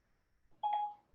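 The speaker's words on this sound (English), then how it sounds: "Hey Siri, set a timer for 10 minutes." A short electronic chime from the Siri voice assistant, a single bright tone sounding clearly in a quiet kitchen after a timer request.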